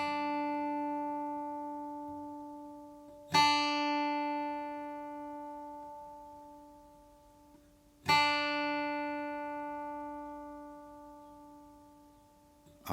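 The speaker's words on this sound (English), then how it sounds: "so we're going to tune this E down to a D." A guitar's low E string tuned down to D, plucked twice with long ringing decays, a single clear sustained note fading slowly between each pluck, close and alone.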